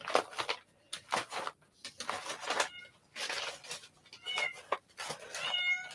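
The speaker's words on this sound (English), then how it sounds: "That's Harley meowing because she can't find Scott, my husband." Harley, a house cat, meows repeatedly in short separate calls spaced across the moment, fairly close and clear against a quiet room.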